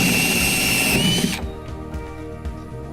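A power drill bores a hole into the deck of a Hobie Passport 12 kayak, whining steadily for over a second before winding down into lower grinding and a few faint knocks.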